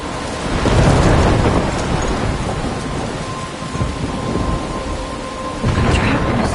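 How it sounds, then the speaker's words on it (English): Thunderstorm in a video game: a loud rolling rumble of thunder over steady heavy rain, easing slightly in the middle, then swelling again with a fresh crack near the end. "I'm trapped in a storm?"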